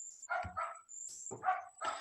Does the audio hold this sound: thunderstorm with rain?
no